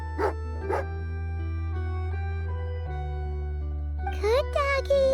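A dog in the video game Genshin Impact gives two short barks near the start, then a sustained game music drone follows, and a brief chirpy voice-like burst comes near the end.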